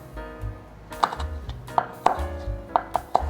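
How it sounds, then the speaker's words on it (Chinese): A knife chops soaked, softened kombu into thin strips on a cutting board, giving a close, irregular series of sharp knocks and thuds, with no voices. "把昆布切成细丝状。"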